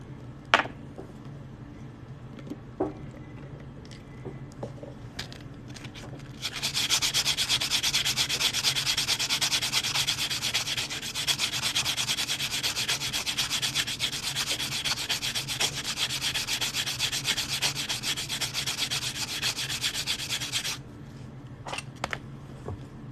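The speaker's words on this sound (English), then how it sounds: "the next step for this, I'm gonna sand this edge a little bit" A quarter coin ring's edge is sanded in a long, steady, close rubbing rasp that lasts about fourteen seconds, with scattered light taps and handling noises before and after.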